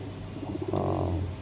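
Caged pigeons of fancy breeds such as homers, fantails and satins give soft low cooing, a short run of throaty pulses swelling into a longer coo, close and fairly loud.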